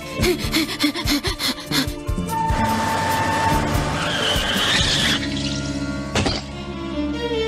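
A cartoon truck pulling away: a screeching, skidding engine roar with squealing tones and thunking bumps, loud and close, ending in a sharp clatter, no talking.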